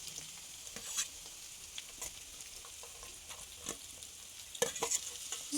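Chopped onion sizzles in hot oil with ginger and garlic while a utensil stirs and scrapes the pan, with soft irregular clicks over a steady frying hiss, fairly close.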